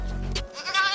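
A goat born with only two front legs bleats in a short, close call that fades into quieter rustling.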